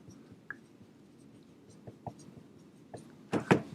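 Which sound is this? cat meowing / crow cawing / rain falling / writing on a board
writing on a board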